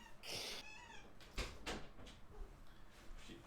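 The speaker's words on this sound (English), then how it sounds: "my cat is screaming to be let in" A house cat meows loudly several times to be let in through a door, the cries close and insistent, with soft bumps and faint talk between them.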